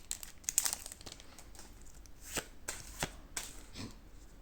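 Pokémon trading cards are handled and tossed down, giving crisp flicks, rustles and sharp slaps in an irregular series at close range, with no talking.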